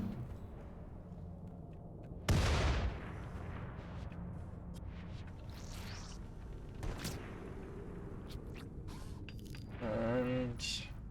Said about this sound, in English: New turrets are really doing a lot of work for us. Keeping the zombies at bay.